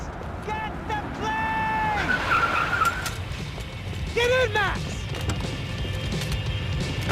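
A car races hard with tires squealing and skidding, sharp rising screeches and thumps over a roaring engine, with voices talking over the chase.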